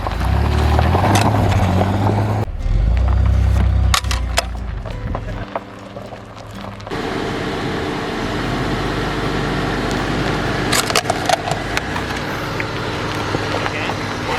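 Car engine and tyre rumble as a vehicle runs over a boot jack dropped from its trunk, loud and close with a heavy low roar shifting partway through, brief thumps and scrapes, outdoors with a voice talking faintly.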